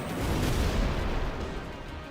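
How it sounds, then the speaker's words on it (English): Meteor strike attack in Final Fantasy X, a heavy rumbling barrage of booming impacts that swells loud through the first second and then slowly tapers, with no talk over it. "Meteor strike."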